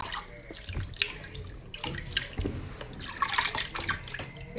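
Grains for thiakry washed by hand in water, irregular sloshing and splashing with drips as hands work through the bowl, moderately close and without talk.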